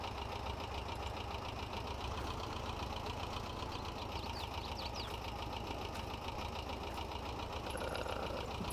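A John Deere 710 tractor idling in Farming Simulator 22, a steady low, faint engine drone with a constant rhythmic pulse throughout.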